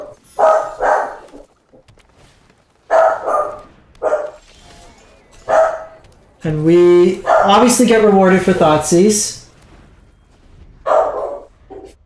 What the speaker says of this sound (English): Sorry, I'm watching a dog, so just give me 1 sec. The other one's barking.